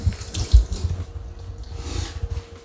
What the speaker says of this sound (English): before I do it, I always just wet it under the tap because the batter's less likely to stick to